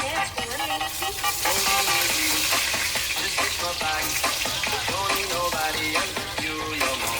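A pork chop frying in a pan gives off a loud, steady, dense sizzle that never lets up, with faint tonal sounds running beneath it.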